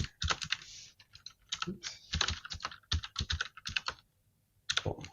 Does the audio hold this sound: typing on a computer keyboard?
yes